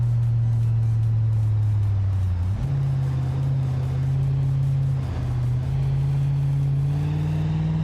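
A truck driving in BeamNG drones with a loud, steady engine hum that dips briefly on two gear shifts and then climbs slightly, with no speech over it.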